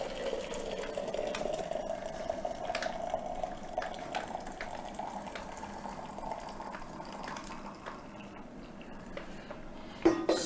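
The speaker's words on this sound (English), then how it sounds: "I pour in my hot water." Hot water pouring from a flask into a cup, a steady trickling fill running for several seconds at moderate level, ending with a small clink, no talking.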